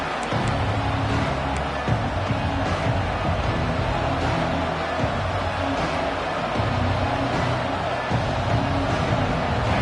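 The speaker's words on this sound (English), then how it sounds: "This crowd ready to make its presence known." A college football stadium crowd roars steadily and loudly throughout, a dense wall of cheering and babble with no pauses.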